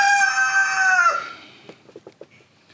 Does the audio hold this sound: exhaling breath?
no